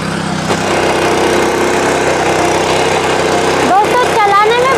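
A Honda-engined Sraja power weeder (back rotary tiller) runs steadily at close range in a field, a continuous loud engine drone with churning, rattling texture throughout, while a person talks over it near the end.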